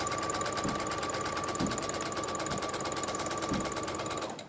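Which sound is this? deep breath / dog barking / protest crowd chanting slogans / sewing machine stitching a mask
sewing machine stitching a mask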